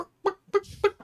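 A human voice imitates a chicken clucking, making three short, throaty clucks in quick succession, close and fairly clear.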